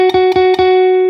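A single guitar note, fretted at the 11th fret of the 3rd string, is picked three times in quick succession and rings on clearly and close, with no voice.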